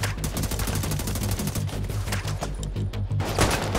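Rapid automatic gunfire in the shooter The Division 2, fired blindly from behind cover: a fast, even rattle of loud close shots running continuously for several seconds with no voices.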